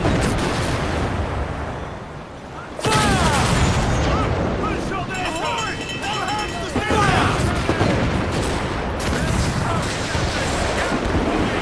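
Ship cannons fire in Assassin's Creed Black Flag during a naval battle against a man-of-war, heavy booms and rolling blasts layered over loud sea and battle noise, with shouting voices mixed in.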